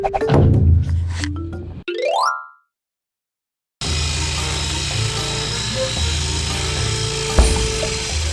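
Saw cutting through pipe during a gate valve replacement, with dense rasping strokes at first, a rising squeal, a brief pause of silence, then steady close grinding and scraping that continues to the end.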